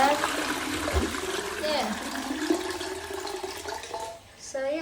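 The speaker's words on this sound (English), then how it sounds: "Look, I flush again." A toilet flushing after cleaning with bloo 3-in-1 toilet block foam, a sustained rushing swirl of water that tapers to a trickle and refill, while a person talks briefly over it.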